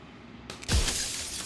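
Mirror glass cracks and then bursts into shards in the Slay The Princess video game: a sharp crack, then a loud crash with a ringing, glassy tail that fades over about a second.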